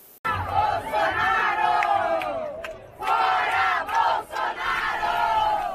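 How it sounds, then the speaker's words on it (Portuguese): Large crowd of student and teacher protesters marching on Avenida Paulista in São Paulo, a loud continuous roar of massed chanting and shouting that surges in waves with short dips. "Em São Paulo, uma multidão tomou conta da Avenida Paulista."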